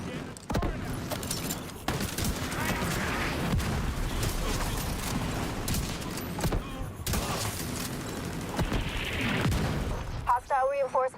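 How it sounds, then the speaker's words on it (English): An autocannon fires in The Division, a series of heavy, booming bursts with sharp onsets and rumbling tails, close and loud, repeating irregularly amid other game noise while someone talks over it. "The autocannon seems to be firing blind."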